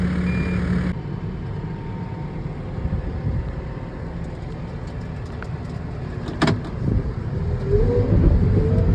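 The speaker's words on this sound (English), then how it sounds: "he's going over them with the skid" Skid steer loader working over the dirt rollers of an ATV supercross track, its engine a steady, continuous rumble close by with some clanking and a brief sharp bang midway.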